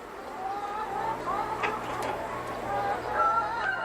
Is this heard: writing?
no